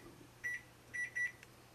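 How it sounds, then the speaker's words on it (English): A kitchen timer being started beeps three times, short clear electronic tones with a brief gap between the first two, faint in a quiet kitchen with a low background hum. "I'm going to go ahead and just start the timer"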